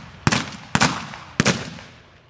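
Three sharp gunshots during the siege of the McSween house, each a loud crack followed by a short echoing tail, spaced roughly half a second apart, with no voices.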